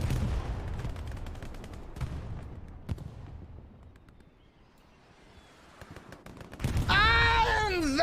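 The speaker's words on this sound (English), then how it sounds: "Nice little bit of artillery right on the spawn there." Artillery and gunfire in a multiplayer war game, a string of loud thumping blasts and sharp reports that fade, then build to a heavy rolling barrage with whistling, sweeping tones at the end.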